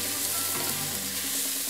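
Potatoes frying in a pan, a dense continuous sizzle heard up close with no voices.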